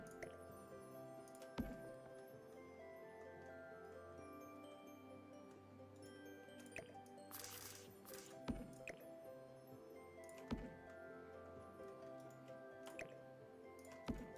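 Water feature in The Sims 4 dripping in a steady, irregular patter of small drops over a soft ambient game hum, with a few sharper ticks and a brief splashy burst midway, all faint and without talk.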